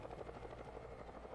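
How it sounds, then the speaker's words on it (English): A helicopter in Batman: Arkham Knight, a dense, steady rotor throb with a low droning rumble, continuous and fairly full without any talk. "That's a helicopter."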